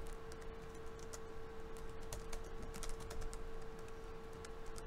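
Someone types a git commit message on a computer keyboard: a quick, irregular run of light key clicks at low level over a faint steady hum, with no talking.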